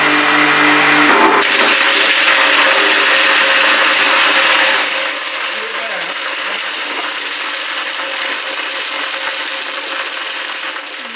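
A loud olive-mincing machine grinds freshly harvested olives during small-scale olive oil production, a steady harsh whirring roar that runs continuously and eases slightly in level partway through, with no speech.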